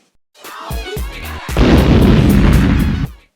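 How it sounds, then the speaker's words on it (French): A harsh, booming whoosh effect: a few thumping hits build into a loud, noisy rumbling burst that cuts off abruptly after about two seconds. "Désolé pour ce bruit de transition absolument affreux"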